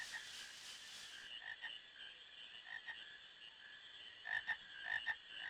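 Frogs croak in Final Fantasy IX, a chorus of high, chirpy calls that repeats in uneven pulses, louder bursts coming near the end over a quiet game backdrop.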